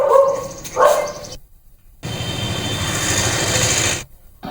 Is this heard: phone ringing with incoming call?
no